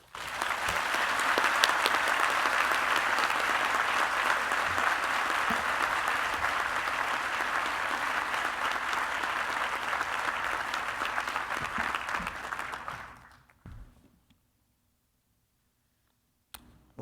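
A large audience at a Reed College convocation gives sustained, dense applause for about thirteen seconds to welcome a speaker, then it fades out into near silence.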